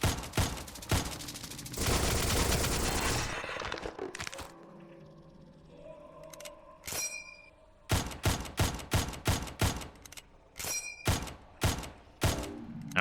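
Pistol shots in a video game, sharp sudden cracks fired in quick bursts and irregular single shots, loud and close, with gaps of quieter game ambience between volleys.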